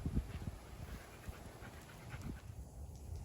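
A dog panting outdoors on a back porch, quick rhythmic breaths close by with a few soft thumps and shuffles, continuous through the moment.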